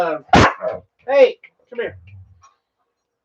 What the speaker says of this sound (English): the dogs are growling and biting each other now